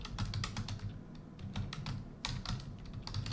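Rapid, irregular clacking of a computer keyboard as notes are typed, close and fairly quiet, in short bursts with brief pauses and no talking.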